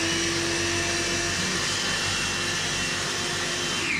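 Blender grinding cashews into a powdery faux parmesan, a loud, steady motor whir with a coarse grinding texture that runs continuously without pause.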